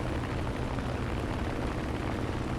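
Vought F4U Corsair propeller engine drones in War Thunder, a steady low rumbling roar with no break, fairly quiet.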